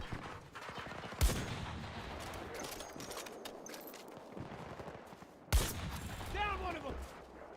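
Rapid gunfire from a weapon in Battlefield Hardline, a continuous rattling volley with two sharper loud blasts standing out, with voices talking over the shooting.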